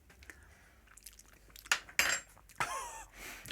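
Metal spoon clinking and scraping against ice in a glass while a coffee cocktail is stirred down, a few sharp chinks and rattles over a quiet background.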